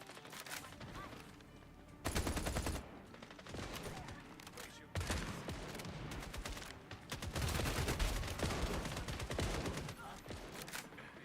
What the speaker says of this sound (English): Light machine gun.